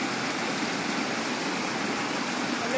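Strong countryside stream rushing steadily, a dense broadband roar of flowing water holding constant and loud throughout with no voices.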